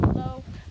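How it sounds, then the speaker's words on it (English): Wind buffets an outdoor microphone with low rumbling gusts, strongest at the start, beneath someone talking. "the wind is blowing"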